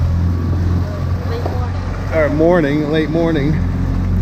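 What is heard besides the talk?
dinghy motor running on a boat ride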